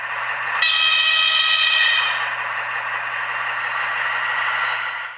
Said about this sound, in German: Der Sounddecoder kann wahlweise Dampflok- oder Diesellokgeräusche abspielen.